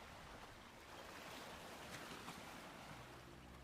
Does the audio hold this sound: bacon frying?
no